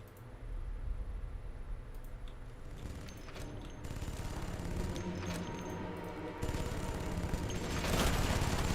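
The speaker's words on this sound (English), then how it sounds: "that's an enemy turret, I think" Sustained bursts of rapid automatic fire from an enemy turret in the sci-fi real-time strategy game Red Solstice 2, loud and continuous with a sharper, heavier volley near the end.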